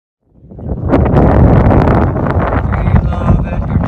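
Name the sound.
wind while sailing in Edgartown Harbor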